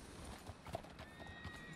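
A horse in the Western video game Red Dead Redemption roleplay, with faint hoof clip-clops and soft snorting or whinny sounds, quiet and somewhat distant over low background ambience.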